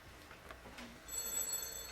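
A telephone bell rings faintly in a home, a short trill of ringing that grows a little louder toward the end, set against quiet room background.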